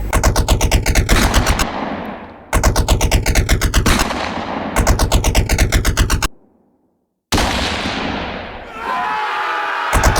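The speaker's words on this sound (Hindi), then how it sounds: "ब्रिटिश सिपाही आंदोलनकारियों पर गोली बरसाने लगे" Bursts of gunfire from British soldiers shooting at protesters rattle out in loud, rapid volleys, several rounds broken by short gaps and a brief silence before a final barrage.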